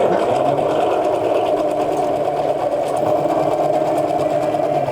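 Sewing machine stitching cloth for an adjustable mask, a steady, loud, close mechanical whir with a fast rapid needle clatter, running continuously without pause.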